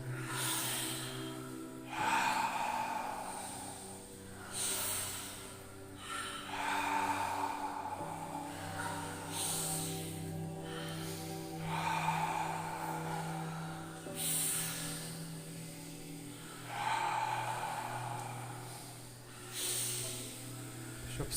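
Slow, deep breathing in a Wim Hof style session, with long hissing breaths in and out repeating every few seconds, close and fairly quiet, and no talking between breaths.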